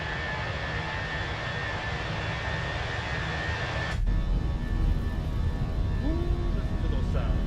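Airbus A320 jet engines spooling to takeoff power in Microsoft Flight Simulator 2024, a loud steady roar with a whining tone that swells and deepens partway through, with a short tonal chirp near the end.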